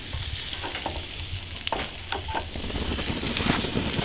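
Steak sizzling in a hot pan at a truck campsite, a steady close frying hiss with faint stirring clicks and occasional sharper pops throughout, with no voices.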